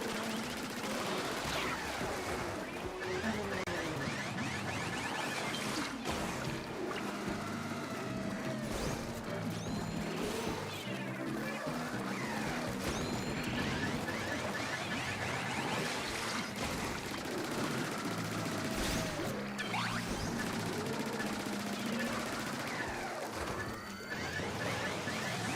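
Sustained rapid gunfire and crashing impacts during a boss fight in a multiplayer shooter video game, loud and continuous for the whole stretch with dense overlapping bursts and no talking.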